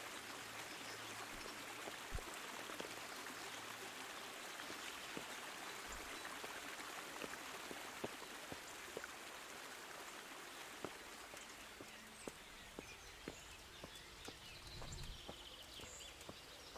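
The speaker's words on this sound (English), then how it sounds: "It's a good thing we have this stream." A flowing stream in Kingdom Come: Deliverance runs as a faint, steady broadband wash of water, with soft scattered clicks and taps over it and no talk.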